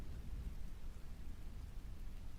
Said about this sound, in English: add some like rain and thunder over the top of it